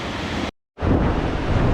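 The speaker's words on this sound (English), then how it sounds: "trying to find a place to get down next to the river, possibly falling into that raging torrent" Roaring whitewater of the South Yuba River torrent on a sunny spring day, a loud steady broadband rush close by, briefly cutting out for a fraction of a second before resuming just as strong.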